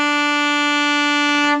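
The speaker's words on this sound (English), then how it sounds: "B sounds like this." Saxophone holds a single sustained B note, a steady, bright, loud tone lasting under two seconds, with no accompaniment or voices.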